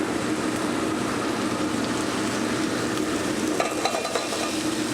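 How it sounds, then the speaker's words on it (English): Leeks and garlic sizzle in a hot pan in a dense, steady hiss that holds at an even level all the way through, with faint scraping as they are stirred. "Then I'll throw the leeks in."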